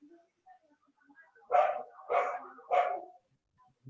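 A dog barks three times in a row, evenly spaced and fairly close, with near silence around the barks.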